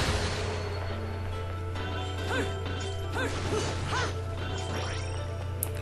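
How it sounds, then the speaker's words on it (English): Tables and door glass being smashed in the game Bayonetta, a few sharp crashing impacts over a steady low game hum and background music. "smash some tables, and I didn't know you could smash the glass out of the doors until just now"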